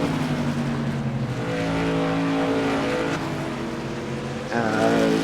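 Stock car engines roar in an iRacing modified tour race, a steady, droning buzz of high revs with several layered engine tones, shifting slightly in pitch, with another car's whine rising near the end.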